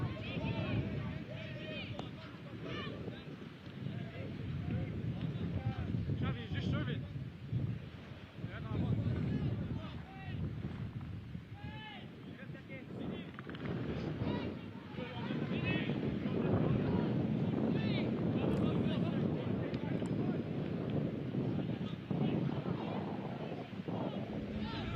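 Gusty wind sweeps across an outdoor football pitch at an Aruba vs Canada under-17 qualifier, a steady, heavy roar buffeting the microphone for the whole stretch while voices carry faintly underneath.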